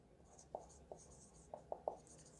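Faint scratchy strokes of handwriting during a business mathematics lesson, a handful of short pen or chalk marks spaced irregularly over a quiet background.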